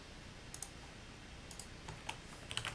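A computer keyboard is typed on in short, scattered bursts of light clicks, faint against a quiet room hiss.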